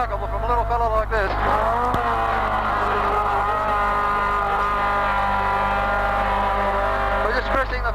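Engine of a 1980 Bathurst 1000 racing car held near 8,000 rpm, a loud, steady high-pitched drone with a brief gear-change dip near the start and end, recorded close from inside.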